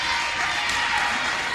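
Trojans fans fill a high school basketball gym with a steady, dense crowd roar that runs unbroken from start to finish and swells only slightly.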